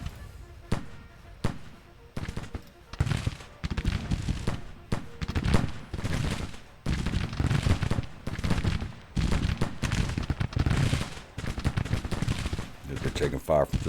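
Dense gunfire and artillery rattle in the Civil War video game Ultimate General: Civil War, volleys of musket shots and booming blasts cracking continuously and loudly throughout, no talk.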